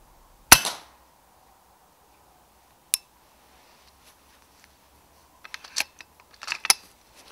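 A night-time airgun shot at a rat in winter: a single sharp crack, then a lone click, followed later by a scatter of small knocks and clatters, close and otherwise quiet.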